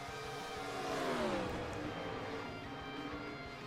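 Stock car engines in a racing video game at Charlotte drone and rise in pitch as cars accelerate, a steady mid-volume roar with no talk.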